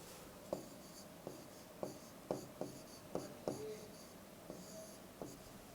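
A pen writes a Sanskrit sentence by hand, tapping and scratching in a string of distinct strokes, about ten sharp ticks spaced unevenly with soft rasping between them in a quiet room.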